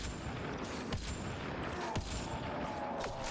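Rapid gunfire crackles in the video game Mass Effect Andromeda, a dense stream of shots with several sharper bursts close together, and no talking.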